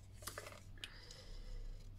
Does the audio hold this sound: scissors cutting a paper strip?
yes